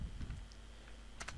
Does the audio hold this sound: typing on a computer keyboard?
yes